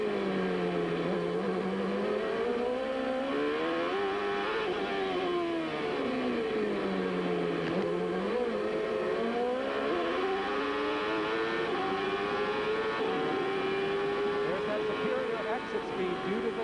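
Paul Tracy's 1995 CART race car at Surfers Paradise, heard onboard as the engine howls, drops and climbs through gear changes and corners, loud and continuous, with a commentator talking over it.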